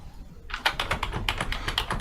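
Close computer keyboard typing starting after half a second of near silence, then a brisk, uneven series of crisp key clicks continuing to the end.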